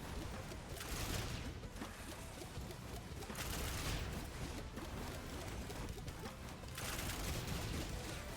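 Turrets firing in Risk of Rain 2, a dense, continuous crackle of rapid shots that swells in several bursts, steady and fairly faint with no talking.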